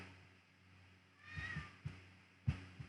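A cat lets out a drawn-out, plaintive meow, then several shorter mewing calls and soft thumps, close but fairly quiet over a low background hum.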